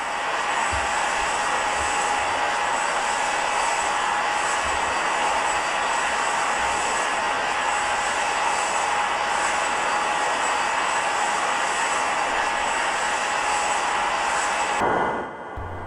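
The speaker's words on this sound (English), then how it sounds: "The aircraft continues its flight across the Atlantic" Boeing 767 cruising across the Atlantic in a flight simulator game: a loud, steady engine drone that holds unchanged and then cuts off abruptly near the end.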